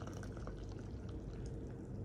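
Hot water pours into a cup of green tea as a soft, continuous liquid trickle that runs steadily for a couple of seconds, fairly quiet and close.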